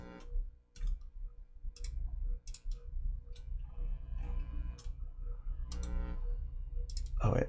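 Computer mouse clicks while working in Pro Tools, a series of sharp, fairly close clicks spaced irregularly over a low steady background hum, with a louder burst at the end.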